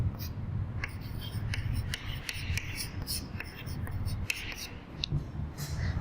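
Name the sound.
writing on paper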